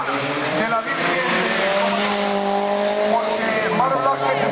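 Rally cars from the Spanish asphalt rally championship doing figure eights at a champions' exhibition, with engines roaring steadily and tires squealing through the turns, loud and continuous, under a commentator's voice.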